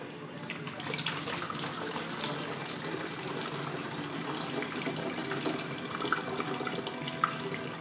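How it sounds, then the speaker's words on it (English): Worm tea drains through a funnel as a continuous liquid trickle and pour, a steady splashing wash with slight fluctuations that runs unbroken throughout, close and moderately loud. "I'll grab this funnel again, put it in here, and I'm going back to draining it out again"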